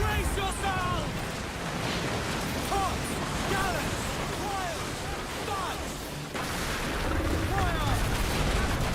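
Naval battle aboard a pirate sailing ship in Assassin's Creed Black Flag, with dense cannon fire booming in a sustained barrage over crashing waves, while shouted crew orders and voices carry through the din.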